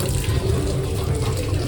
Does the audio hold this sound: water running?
yes